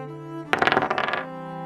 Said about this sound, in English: I'll be rolling some random encounter dice